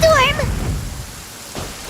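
Rain from a thunderstorm in Genshin Impact, a broad, steady hiss of falling rain that carries on after a short high voice at the very start. A faint swell near the end may be distant thunder.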